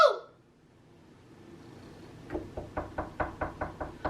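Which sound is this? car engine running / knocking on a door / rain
knocking on a door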